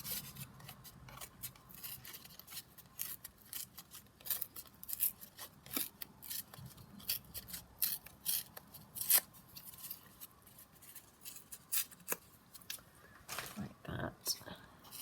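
Paper being cut with scissors and torn by hand while making a Christmas card, with a series of short crisp snips and rasps, some sharp and close, scattered irregularly over quiet room tone.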